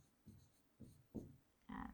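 Marker or chalk strokes on a classroom board during a Grade 8 maths lesson: four short scratchy bursts, the last one longer and louder, close and alone with no talk.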